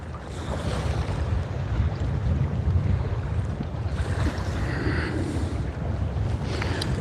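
Steady, loud wind roars across the microphone on open water during kayak bass fishing, a continuous rushing buffet with faint splashy hiss and no talking.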